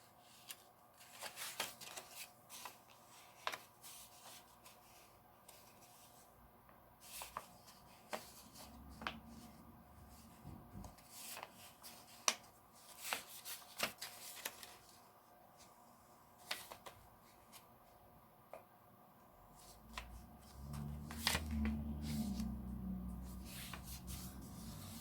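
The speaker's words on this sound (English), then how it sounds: "I'm going to fold it in half, and then I'm going to fold it in half the other way" Card paper is folded in half and then in half again for foil stamping, making soft close crinkles, creases and sharp rubbing clicks at irregular intervals, with a louder scraping pass near the end.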